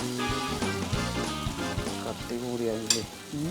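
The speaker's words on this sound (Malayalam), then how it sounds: "അങ്ങനെ ആദ്യത്തെ പീസ് എണ്ണയിൽ ചാടിയിരിക്കുകയാണ്." Banana fritters (pazham pori) frying in hot oil, a steady close sizzle and bubbling crackle running throughout over a loud music bed.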